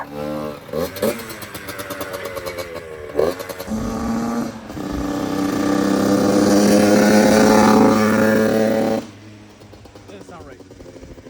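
Dirt bike engines in rough condition rev and idle close by, with a sputtering start, a rising throttle roar held for several seconds, then dropping off to a lower rumble.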